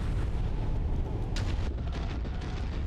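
Rumbling weapons fire in the mech combat video game MechWarrior 5, a heavy continuous barrage of distant booms and blasts with one sharper crack midway, no talk over it.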